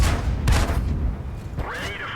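A tank cannon firing in World of Tanks, a loud close boom at the start with a second blast burst midway, followed by a rising mechanical whine, with faint voices underneath.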